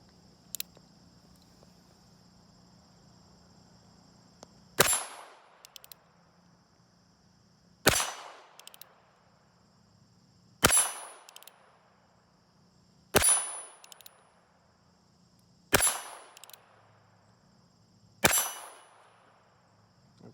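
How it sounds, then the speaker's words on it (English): Six sharp metallic pings ring out at roughly even intervals as .22lr rounds from a Colt Single Action Frontier Scout revolver strike a steel plate, each crack followed by a short ringing decay, with quiet background between shots. "We'll take a few shots at the plate here with the Colt Single Action Frontier Scout"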